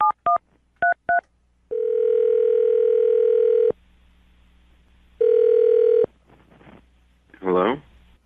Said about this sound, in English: I'm going to dial the phone number right now and get him on the phone